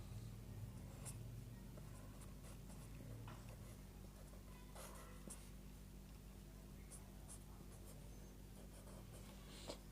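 Pen or pencil writing by hand on paper, a steady soft scratching with faint ticks, heard under a constant low hum and background noise for about ten seconds, with no talk.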